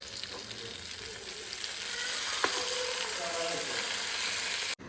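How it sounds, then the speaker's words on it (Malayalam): Fish frying in a pan in a Kerala home kitchen, a steady broad sizzle with a few stirring scrapes and clinks, close and continuous, ending abruptly. "നമുക്ക് പെട്ടെന്ന് മീൻ വറുത്തിട്ട് ഫുഡ് കഴിക്കാം"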